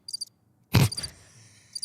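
Crickets chirping sound effect, short bright pulsed chirps near the start and end, interrupted by a loud thump and rustle in the middle.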